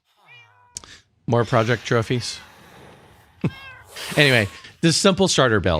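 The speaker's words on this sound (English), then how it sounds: "I'm sorry about the cats. The cats are very mad about the" Cats meowing in Minecraft, a short high meow first, then someone talking over most of the stretch with faint cat cries mixed between his phrases.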